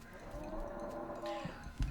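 A stinkabove, a floating cow-skull monster in the West of Loathing video game, gives a low, drawn-out moo over steady game background sound, with a short thump near the end.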